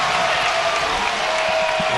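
A home crowd at a Hawaii college basketball game against Cal State Fullerton cheers and applauds in a dense, steady roar, with talk faintly beneath the noise.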